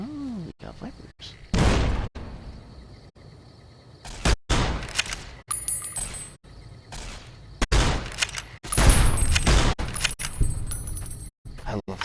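Rifle gunfire in Fallout: New Vegas comes as several loud, sharp bursts spread unevenly across the stretch, with quieter gaps and metallic clinks between them. No one speaks.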